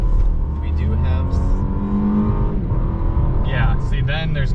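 Steady, moderately loud cabin drone of a 2021 Lexus LS 500 F Sport in comfort mode, a smooth low engine and road hum with no sharp revving, heard under a talking voice.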